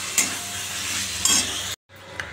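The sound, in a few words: sautéing spices (cumin, coriander, turmeric) for chana masala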